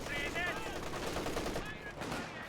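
MG34 machine gun fire from the video game Company of Heroes 2 rattles in steady rapid bursts for the whole stretch, mixed with other battle noise under a game soundtrack.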